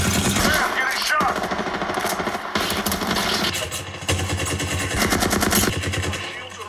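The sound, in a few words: gunfire in a video game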